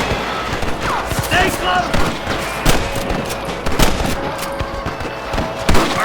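Bursts of gunfire from Red Dead Redemption, a western shootout with rustlers, with irregular sharp shots scattered over constant background noise while characters shout over the action.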